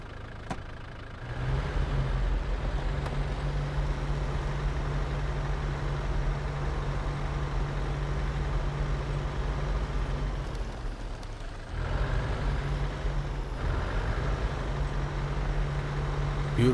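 A truck engine drives steadily in SnowRunner, a low continuous drone with a brief dip in the middle before it picks back up, close and alone.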